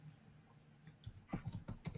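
Keystrokes on a computer keyboard enter a Hadoop command, starting sparse and quiet, then quickening into a burst of distinct clicks near the end.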